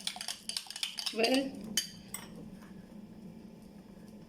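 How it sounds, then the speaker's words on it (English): A spoon beats curd mixed with lemon juice in a bowl, making quick clinks and scrapes for the first two seconds before it settles into a quiet hum, with a brief spoken word. "Beat your curd"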